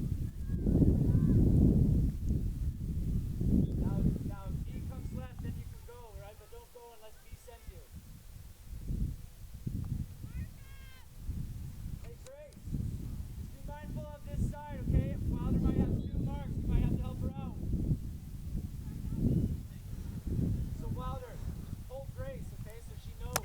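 Gusty wind buffeting the microphone at an outdoor girls' high school soccer game between Randolph and Enosburgh, a steady low rumble throughout under continuous commentary.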